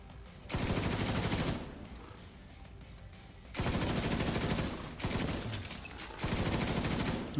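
Bursts of rapid automatic gunfire in a video game, four sustained volleys separated by short pauses, loud and close with no talk.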